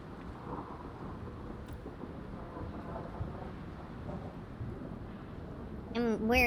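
A howling whiteout blizzard in the video game Frostpunk, a steady low roar of wind rumbling throughout, with a voice speaking over it at the very end.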